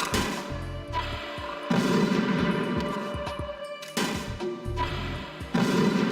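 Metal Gear Solid 2: Substance gameplay of a remote-controlled missile, with repeated loud blasts and rumbling impacts in rhythmic bursts, dense and close, with no talk.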